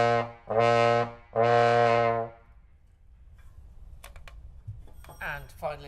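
A baritone or trombone plays the note C as two long, loud, steady held tones, followed by quiet scattered clicks and shuffling.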